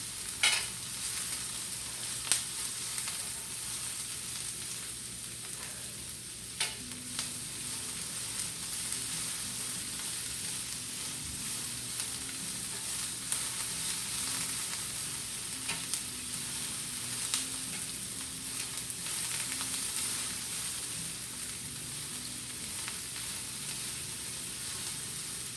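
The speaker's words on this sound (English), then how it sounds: "So the peppers and onions are going to take on the flavor in this iron skillet" Peppers and onions fry in an iron skillet with a continuous broad sizzle, steady and close, with occasional faint clicks and pops and a low hum underneath.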